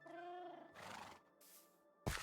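A horse in a pen in the video game Minecraft gives a clear, wavering whinny, followed by snorting, breathy bursts. The sound is close and moderately loud.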